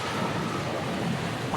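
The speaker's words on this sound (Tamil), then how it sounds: "இடி மின்னலுடன் கனமழை கொட்டத் தொடங்கியது" Thunder rumbles low under a dense, steady roar of heavy rain pouring during a thunderstorm, loud and continuous throughout.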